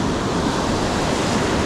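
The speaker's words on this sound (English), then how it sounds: "out there where the waves are breaking big" Ocean surf breaking along a beach where surfperch are fished, a steady broadband roar of waves with no clear gaps, loud and continuous throughout.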